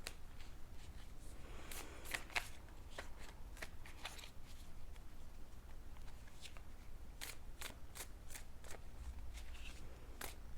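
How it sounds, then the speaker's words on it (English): Tarot cards are shuffled and pulled from the deck in a steady stream of crisp riffles and flicks, close by and fairly loud, with no voices. "I'm going to pull some tarot cards"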